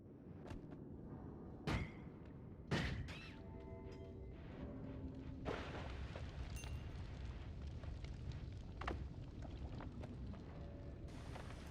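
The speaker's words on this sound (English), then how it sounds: "If you hover above explosive boxes, you can actually hit them with this stuff and then they explode" Explosive boxes blowing up in the video game Noita, with sharp bursts and booms, two stronger blasts near the start, over a constant rumbling game background.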